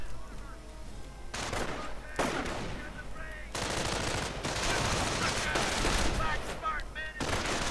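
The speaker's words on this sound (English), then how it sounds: "Light return fire again." Steady gunfire and machine-gun bursts crackle through a World War II strategy video game battle. The firing comes in dense, repeated volleys at moderate distance, with game noise running underneath.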